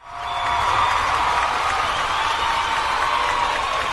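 Applause sound effect: a steady wash of crowd clapping that swells in quickly and holds at an even, loud level throughout.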